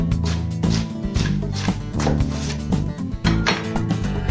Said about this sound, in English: To start things off, we got to get our vegetables chopped up